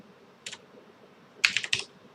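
Sparse keystrokes tap on a computer keyboard: one short click, a pause, then a quick cluster of several crisp clicks, close and clear against a quiet room hum.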